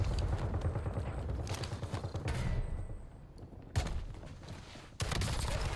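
Gunfire rattles in Call of Duty on Rebirth Island, dense bursts of rapid shots in irregular clusters, some loud and close, with brief lulls between volleys.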